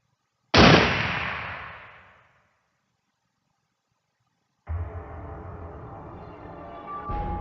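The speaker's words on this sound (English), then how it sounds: "the result of the firing is random, whether it fires the real bullet or blank" A single sharp, loud revolver gunshot in the video game Zero Time Dilemma, its blast decaying over about a second and a half, followed by silence and then a steady low game ambience.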